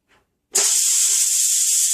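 A Power Quick Pot pressure cooker vents steam in a sudden loud, sustained hiss that bursts on after a brief quiet moment and keeps going steadily at close range.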